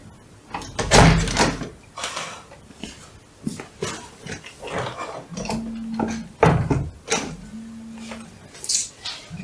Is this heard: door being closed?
yes